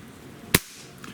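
A single sharp crack of a Beeman QB II 1085 air rifle firing a pellet, loud and close, with a brief faint tail afterward and quiet room hiss around it.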